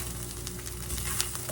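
Vegetables with a pinch of black pepper being stirred in a hot pan for homemade sloppy joes, giving a steady close sizzle of frying with faint scraping from the stirring.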